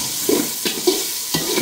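Spoon stirring tomatoes and spices frying in a pan, a steady loud sizzle with a few scraping strokes at irregular intervals, close up and without voices.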